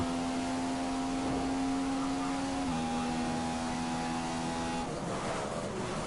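A McLaren F1 race car engine in the racing game F1 2015 drones at a steady high pitch, then shifts slightly lower partway through, loud and continuous with no talking.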